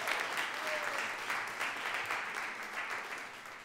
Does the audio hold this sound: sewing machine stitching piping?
no